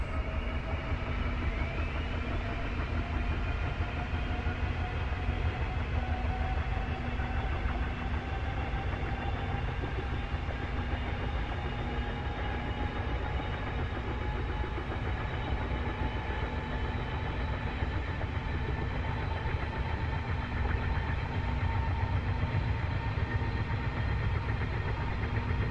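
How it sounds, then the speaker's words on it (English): A Mi-8 helicopter's right engine spins up in the DCS flight simulator, a steady droning whine with slowly rising tones that holds evenly for the whole stretch, with no voices over it. "Now we wait for the right engine to spin up."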